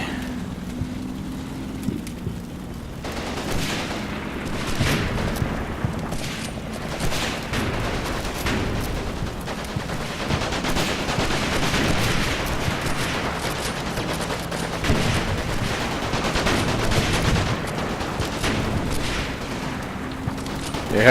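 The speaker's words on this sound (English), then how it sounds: "having that canister shot come through from that M5 would be fairly scary for them" Dense, continuous gunfire and booming blasts in a war video game, with an M5 firing canister shot among sharp repeated reports and rumbling impacts, loud and sustained throughout with no voices.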